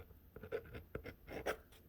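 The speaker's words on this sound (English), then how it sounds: "So I'm going to sign that." A pen scratching across paper while signing a document, close and quiet, a short series of scribbled strokes with no talking.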